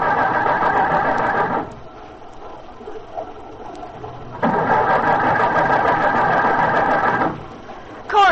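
An old bus engine cranked over and over in flood waters, carburetor wet, loud whirring starter bursts of a few seconds each with a pause between, failing to catch.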